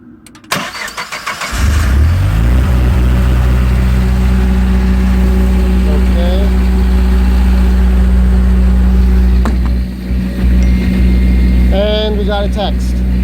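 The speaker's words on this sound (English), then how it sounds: "we're going to turn the generator on manual mode" A generator cranks and fires up in manual mode, then settles into a loud, steady running drone with a brief dip in level partway, close by, with a few faint squeaks.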